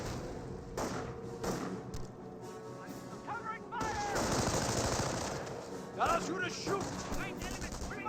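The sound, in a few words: gunfire hitting pioneers in Company of Heroes video game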